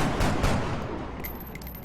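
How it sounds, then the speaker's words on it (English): A scout fires a single loud shot in XCOM: Long War, a heavy blast whose echo rolls on and slowly fades, with faint high beeps from the game near the end. "Alright, our scout takes a pot shot."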